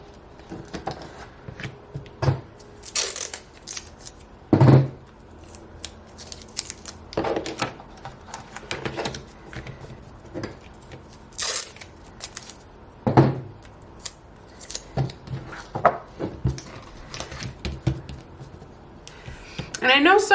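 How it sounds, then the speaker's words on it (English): Tape pulled from a roll and pressed down to hold an art page flat: scattered sharp rips and crinkly tearing bursts, close and irregular, recurring through the stretch. "So I'm going to tape it down."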